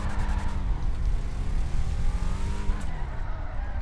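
Powerful muscle car in GTA 5 launching off a released handbrake, engine roaring steadily with rising harmonic revs and a hint of tire noise, close and loud throughout.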